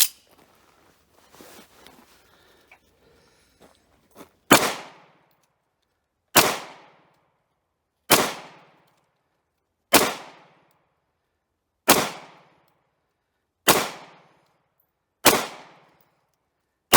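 Eight sharp, loud 9mm shots from a Hungarian FEG P9M pistol, a Browning Hi-Power copy, fired slowly at an outdoor range, evenly spaced about two seconds apart, each with a quick ringing decay, after a stretch of faint handling noise.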